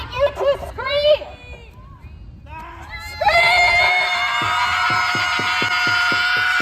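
A crowd of protesters screams and shouts together, loud and sustained, rising from scattered voices into a dense collective roar that holds steady to the end.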